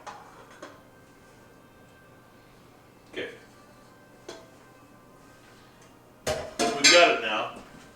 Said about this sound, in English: I like to flip it back and forth between the pot and the strainer a couple of times.